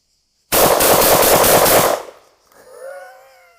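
A Molot VEPR 12 Russian shotgun fires a fast burst of loud, closely spaced shots lasting about a second and a half, then cuts off, leaving a ringing echo and faint background noise.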